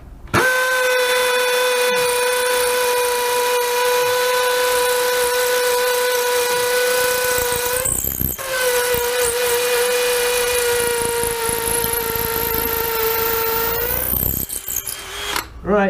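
Milwaukee M18BPD and Dewalt DCD776 cordless drills boring into something hard, a loud sustained high motor whine that breaks off sharply near eight seconds, restarts, then stops again near fourteen seconds.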